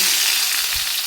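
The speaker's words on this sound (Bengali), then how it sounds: "এই দেখো তেল গরম হয়ে গেছে, কালো জিরে দিয়েছি। এখন আমি ঝিঙ্গাগুলো দিয়ে দিচ্ছি।" Ridge gourd pieces hit hot oil with nigella seeds in a pan, producing a loud, close, continuous crackling sizzle with a faint thump of the vegetables landing.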